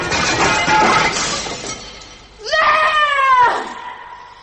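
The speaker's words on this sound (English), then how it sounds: "I threw it as hard as I could at the glass face" A communion chalice hurled at a glass face, a crashing shatter of breaking glass followed by a shrill, wavering cry, the sounds loud and close with no talk.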